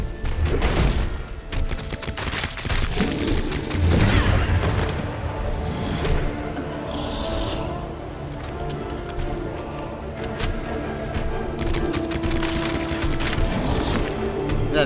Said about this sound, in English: Let's get our submachine gun out.